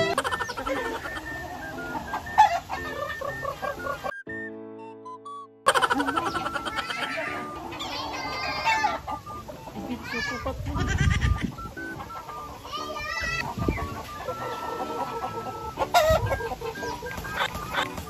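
A chicken clucking repeatedly and loudly, close by, in irregular bursts over a dense background of other animal sounds and noise, with a brief quiet gap partway through.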